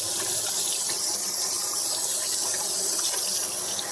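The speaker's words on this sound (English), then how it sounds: "Let me get my hands washed here." Hands get washed under a running sink tap, with a steady, close, hissing stream of water splashing continuously throughout and no voices.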